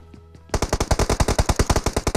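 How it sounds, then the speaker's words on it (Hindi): Automatic gunfire in BGMI, a burst of about fifteen rapid, evenly spaced shots starting abruptly after a faint quiet moment, loud and close. "जब मैं बूट कैंप छोड़कर आया तभी बूट कैंप से पीछे से फायर होने लगा।"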